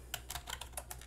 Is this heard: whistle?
no